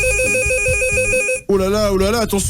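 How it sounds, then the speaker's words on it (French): A red telephone rings in a radio studio with a bright repeating electronic ringtone, loud and close, then cuts off as a presenter starts talking excitedly. "c'est le téléphone rouge, les amis, qui est en train de sonner"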